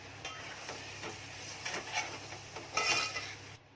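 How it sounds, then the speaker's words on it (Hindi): Metal lid set down on a cooking pot of tomatoes in a home kitchen, a few light clanks and clatters with a brighter metallic knock near the end, close and fairly quiet, no talk. "अब इसको ढक्कन मार के रख रही हूँ"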